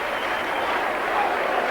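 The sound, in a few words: Warrington fans cheering at rugby league match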